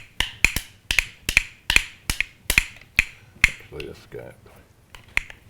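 Musical bones clack in a sharp, rapid rhythmic pattern of dry clicks, loud and close, with brief talking in the middle before the clacking resumes.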